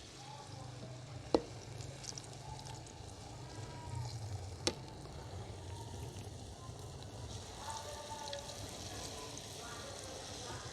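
Laddu pethi, lentil-filled fritters, frying over medium heat in a village street-food kitchen: a quiet, steady sizzle of oil throughout, with a couple of sharp clinks from utensils.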